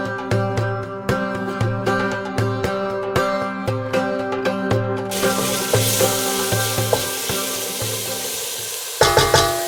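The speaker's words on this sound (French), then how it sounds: "je mets un filet d'huile d'olive et je vais commencer à rissoler ma viande" Meat browning in olive oil for a traditional Moroccan harira, a steady close sizzle and crackle with repeated scraping stir strokes, the frying growing denser and hissier partway through, with a brief louder burst near the end.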